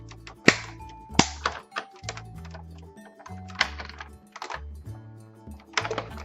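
A compact Cuttlebug die cutting machine cranked by hand as a die passes through, giving close clunks and ratcheting clicks in an uneven rhythm with a few sharper thumps.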